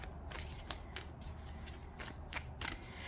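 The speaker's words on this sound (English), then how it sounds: "Let me shuffle here and see what we get." Oracle cards being shuffled by hand, a soft papery riffle with several crisp slaps and flutters spread across a few seconds, close and fairly quiet, with no talking.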